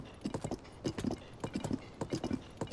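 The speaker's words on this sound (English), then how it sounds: "riding horses is always fun" A horse's hooves clip-clop in a steady galloping rhythm while being ridden in Zelda: Tears of the Kingdom, moderately close and with no voices over it.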